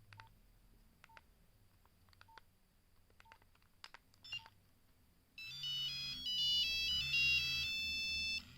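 A Nokia 3310-style mobile phone, first a series of short key beeps, then a loud, bright polyphonic ringtone melody playing alone, close up.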